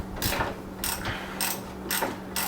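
A ratchet wrench spins a nut off a rear BC Racing coilover bolt on a Z car, giving about five quick bursts of ratcheting clicks in a steady rhythm, close by, over a faint low hum.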